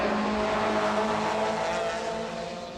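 A Nissan and a BMW touring car race flat out in the 1993 BTCC, engines snarling loudly and continuously close by, the roar easing slightly toward the end.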